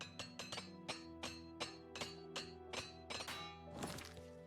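Repeated metallic hammer strikes as gear is repaired with a repair hammer in Oblivion Remastered, a dozen or so sharp clanking taps in irregular rhythm, fairly loud and close, ending in a brighter shimmering chime.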